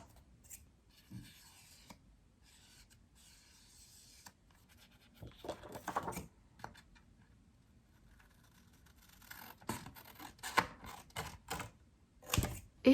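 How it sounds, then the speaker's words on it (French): Small paper cards being cut out by hand during a craft session, with scattered snips and rustles of paper, quiet at first and then busier, with clusters of close, crisp cuts and handling noises toward the end. "Je vais découper tout ça."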